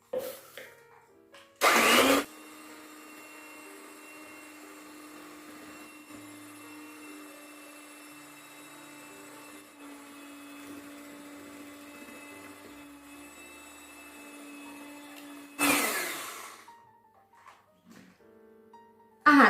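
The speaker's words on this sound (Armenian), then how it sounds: "Ահա, տեսեք, մի փոքր հարում ենք, մինչև շաքարավազը լուծվի" An electric mixer beats eggs and sugar for zebra cake batter, whirring with a steady motor hum for about fourteen seconds between louder rattling bursts as it starts and stops.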